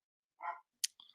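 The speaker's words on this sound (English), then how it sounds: "Oh no, that got my dog barking." A dog gives a single faint, distant bark, followed by a brief clicking noise, in otherwise quiet surroundings.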